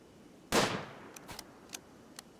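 A single sharp gunshot cracks out in the colony sim RimWorld, decaying over half a second, followed by a few fainter clicks and small pops spaced across the next two seconds, with no voices.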